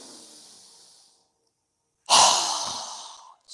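A strong open-mouthed exhale during a yoga breathing exercise: a quiet inhale fades, then after a brief silence a loud, breathy rush of air bursts out and tapers over a second or so, alone and close.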